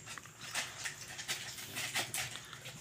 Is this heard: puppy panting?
yes